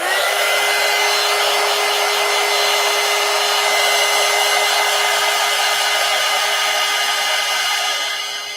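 A hair dryer blows continuously on gold paint drying on a collage, a loud steady whooshing hum with a fixed motor whine, close by and alone, tapering slightly at the end.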